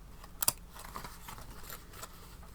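Scissors snipping through scrap fabric, a couple of crisp close cuts followed by softer faint snips and rustling, quiet and alone.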